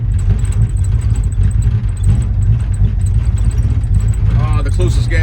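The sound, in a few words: 1968 Ford Fairlane engine idling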